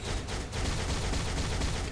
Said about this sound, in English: Okay, we got some holy light going on here. We got the explosion.